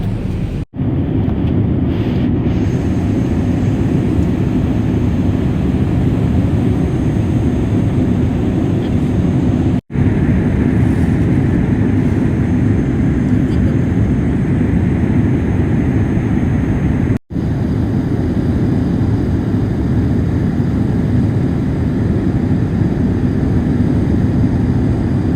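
Steady roaring drone of a passenger airplane cabin during landing on a flight toward Clark in the Philippines, loud and continuous with a broad rumbling wash of engine and air noise throughout and brief cuts in between.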